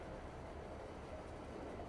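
Train rolling along in the farming game Farming Simulator 22, a steady, continuous low rumble and rattle of rail cars that holds evenly throughout with no voices.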